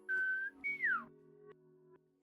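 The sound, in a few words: whistle imitating the Ed, Edd n Eddy cartoon intro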